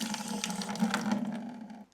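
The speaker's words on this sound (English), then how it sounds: "we're just going to let this drain." Water drains from a whole house filter system into a bucket, a steady close gush with a low pouring tone that carries on evenly before cutting off at the end.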